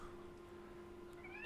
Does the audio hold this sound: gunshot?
no